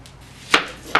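A sharp kitchen knife chops the ends off an onion on a cutting board in two close, crisp thuds about half a second apart, set against a faint kitchen background.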